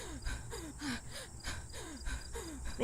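A video game character, a woman close to toppling over, breathes hard in repeated ragged gasps with a steady rhythm of about two a second. The panting is close and moderately loud against a low ambient hum.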